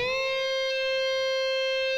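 A single electric guitar note on the B string bends from the 10th up a minor third to the 13th-fret C and then holds, sustaining clean and steady with a slight bright edge, alone and close.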